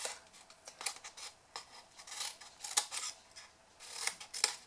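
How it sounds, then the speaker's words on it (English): Scissors snipping off wedges of paper or card for a festive table favour box, close and quiet, a series of crisp irregular cuts with soft rustling between. "So we'll just cut those wedges and a bit off."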